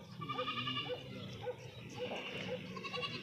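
Goats bleat repeatedly at close range on a farm while being fed in the evening, overlapping calls rising over a busy background of animal movement and murmuring voices.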